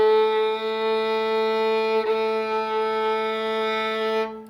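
Violin sounding a sustained A fingered with the first finger on the G string, one steady bowed note held for about four seconds with a slight bow-change blip midway, close and clear, no talking.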